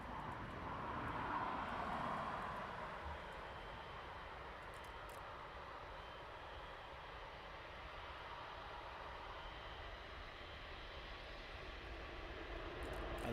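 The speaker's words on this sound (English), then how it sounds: "we're going to zoom into the departing aircraft" A jet departing East Midlands Airport at night produces a broad, steady distant engine roar that swells early and then holds as a low rumbling wash.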